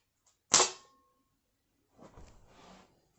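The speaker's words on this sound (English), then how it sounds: "let's whip this banana" A whip cracks once against a banana, a sharp loud snap followed by a short decay, then quieter handling and rustling noises about a second and a half later.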